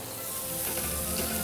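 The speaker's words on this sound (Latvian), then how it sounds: "Kamēr mēs cepam ķemmīti steiku" Steak and seafood sizzle steadily in a hot frying pan, a dense continuous hiss at close range with no voices.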